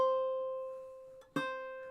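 Single ukulele A string picked with a fingernail in clawhammer style, one clear ringing note slowly decaying, followed by a soft brushed strum of the strings, close and quiet.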